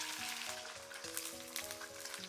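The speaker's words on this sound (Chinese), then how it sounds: "把底部煎香，煎至微焦的状态，再翻过来，把另一面也煎香煎熟。" Sea bass searing in hot oil in a pan, browning until slightly crisp, gives a steady, dense sizzle that runs unbroken throughout, with a faint tonal hum underneath.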